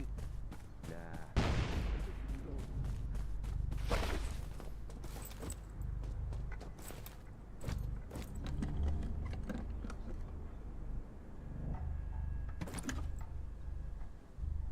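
An MPX Gold submachine gun fires in the Undawn video game. Scattered sharp cracks and short bursts come at irregular intervals, mixed with mechanical clicks and clatter, fairly quiet overall.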